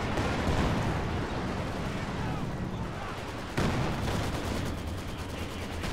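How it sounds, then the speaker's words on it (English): A Katyusha rocket artillery barrage in Company of Heroes 2 roars as a dense, continuous rumble of blasts, with a fresh loud impact partway through. "nice predictive Katyusha barrage there"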